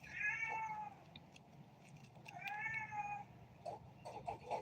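A cat meows indoors, two drawn-out calls with a few shorter chirps afterward, moderately close and alone with no talking.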